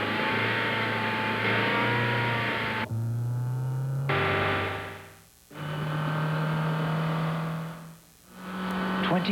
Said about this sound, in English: That's how we develop and test the engine of the Honda Civic.